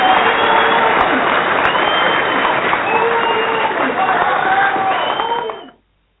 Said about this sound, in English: Brandon, want to give you a one-time round of applause.